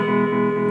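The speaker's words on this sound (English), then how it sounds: "vibrato sounds like this" A sustained electric guitar E note, held with a wavering vibrato, steady and fairly loud throughout the short moment with no talk.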